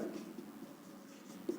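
Chalk or marker writing on a board during a physics lecture in a classroom: a soft, continuous scratchy stroke running under the room tone, faint and close, with one brief sharper tap near the end.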